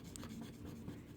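Pencil shading lightly on paper for a Zentangle landscape drawing, a soft continuous scratchy rustle of graphite strokes, close and quiet, with no talking.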